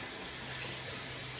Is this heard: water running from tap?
yes